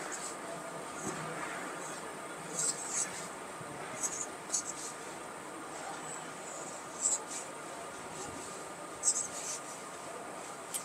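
Marker or chalk strokes on a board during a class, soft scratchy writing sounds in short bursts with pauses between them, quiet and close.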